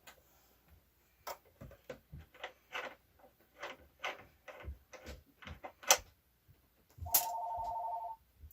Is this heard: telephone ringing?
yes